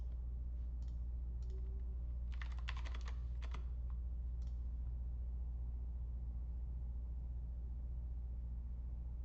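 A short cluster of faint computer keyboard key clicks sounds over a steady low hum, then stops, leaving only the hum and no voices.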